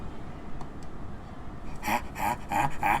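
Dogs in a Minecraft-style game set in a spooky mine, giving a run of four short yelps or barks in the second half, fairly close, over a dim ambient background.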